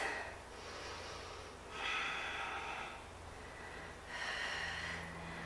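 Heavy, forceful breaths during a barre workout: three long, hissing inhale-exhale cycles, close and loud, with no talking.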